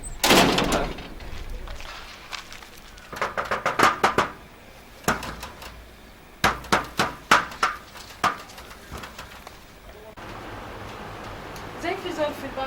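Sharp knocks on a door in a Sudanese drama scene, arriving in several irregular bursts of two to four raps across the stretch, fairly close and loud against a quiet room.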